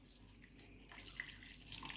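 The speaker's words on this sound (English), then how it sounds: "And I'm gonna pour water into this one now." Water is poured from a vessel into a freshly repotted semi-hydro orchid pot, a soft, steady trickle that swells into a fuller splashing flow partway through, close and fairly quiet.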